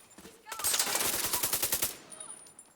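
Rapid automatic gunfire from a first-person shooter video game, a dense burst of about a dozen loud shots lasting over a second, then quieter game ambience.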